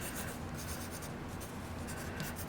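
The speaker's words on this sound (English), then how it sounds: "this is just tracing a design you already drew on your piece of paper" Pen or pencil tracing over a drawn design on paper laid on a monoprint plate, a steady continuous scratchy scraping with faint short strokes, close and quiet.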